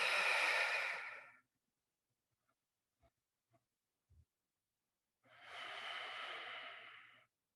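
Two long, breathy exhalations during a side-to-side rolling floor exercise, close and clear, separated by a quiet pause with a few soft taps and no talk.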